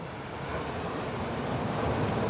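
Water waves lap and wash in a steady, continuous murmur, fairly close, with a soft breezy hiss over it and no voices.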